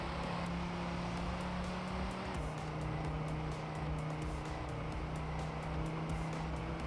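Steady engine drone of a racing car in TrackMania² Canyon, a continuous high-revving hum with a pitch shift midway as it accelerates, loud and unbroken with no voices.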